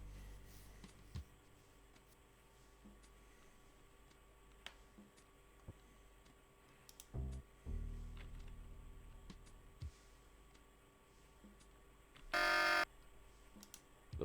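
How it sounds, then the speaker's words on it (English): An apartment alarm in the video game Tex Murphy: The Pandora Directive, sounding as a short, loud buzzing burst near the end after quiet ambience and a few faint clicks. "That's why the alarm is going off."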